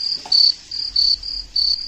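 Crickets chirp in short, high, shrill bursts, about four trills repeating steadily, clear and close with nothing else around.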